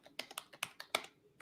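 Close typing on a computer keyboard, eight or so distinct clacking keystrokes in an uneven rhythm with quiet gaps between them and no speech over them.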